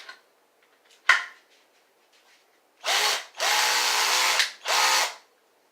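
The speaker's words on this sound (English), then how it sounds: "I've got this drill." A cheap handheld power drill, rigged as a makeshift kayak paddle motor, whirs up in three loud bursts of a couple of seconds each, cutting in and out after a sharp clack; close and alone, no talk.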